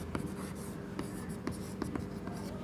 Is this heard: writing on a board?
yes